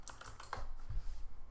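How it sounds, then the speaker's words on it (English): Close, quick typing on a computer keyboard, with a rapid irregular run of key clicks and a few heavier thumps, with no talking. "my typing this morning is terrible"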